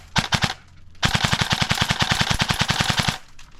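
Airsoft rifle fired semi-automatic as fast as the trigger can be pulled: a short burst of a few sharp cracks, a brief pause, then a long, rapid, even string of close, loud shots.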